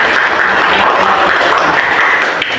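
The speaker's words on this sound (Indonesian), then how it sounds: "kita beri aplaus dulu untuk semua ya" Classroom applause for students who presented, a dense, steady patter of many hands clapping together at moderate loudness for a couple of seconds.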